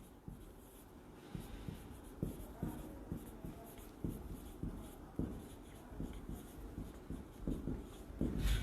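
Writing on a classroom board during an accounting lesson, a series of scratchy strokes and taps in uneven rhythm, close and moderately loud, steady over several seconds without speech.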